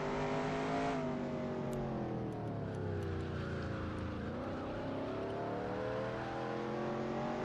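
A NASCAR stock car engine in NASCAR Racing 2003 holds second gear with a loud, continuous engine note. Its pitch dips and then climbs again while it runs alone with no voices.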